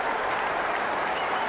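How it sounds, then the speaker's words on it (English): A cricket crowd gives a standing ovation during a West Indies versus Australia tri-series match, producing dense, steady applause that holds evenly throughout without any voices on top. "And a standing ovation. The whole crowd."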